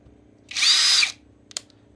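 A Keelat KCD011 cordless impact drill runs at high speed in a single half-second whir, close and loud, followed by a couple of small clicks.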